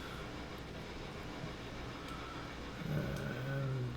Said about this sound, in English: And this train is heading back to Whittier with the logs.